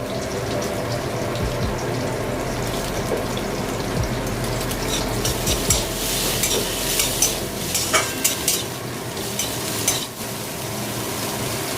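Chopped tomatoes added to browned onions sizzle in a pan while a spatula crushes and stirs them, giving repeated scraping taps over a constant fry, with a brief trickle of water partway through; no talking.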